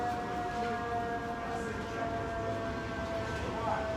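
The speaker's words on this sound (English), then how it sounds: "And here come the emergency vehicles." Emergency vehicle siren on a New York street after an accident, a steady wailing tone held at moderate distance beneath continuous city traffic rumble, with no talk over it.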